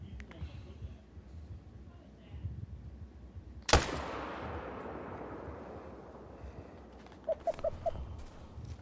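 A single sharp rifle shot at a mule deer in a hunting video game cracks loudly and then fades into a long rolling echo over a steady outdoor ambience, with a few faint bird calls near the end.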